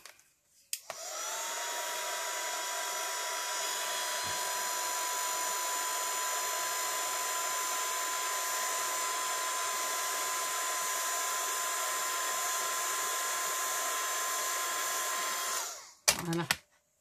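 A hair dryer blows on a handmade scrapbook birth card, switching on with a click and running as a steady, loud, high whine for about fifteen seconds, then cutting off abruptly.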